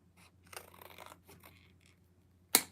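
Scissors trimming the excess off a photo print, soft close snips and rustling paper, ending in one sharp, louder cut.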